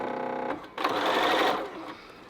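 A sewing machine stitches in a steady whirring burst, running a short leader before a quilt block seam, close and clear, starting and stopping within a couple of seconds.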